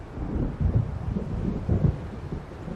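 Low rumbling thunder and gusting storm noise in Alan Wake Remastered, a couple of soft rolling swells over a steady windy, rainy backdrop, fairly quiet and with no voices.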